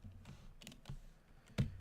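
Quick clicking keystrokes on a computer keyboard, a short run of taps with a sharper, louder key press near the end, close and isolated with no voices.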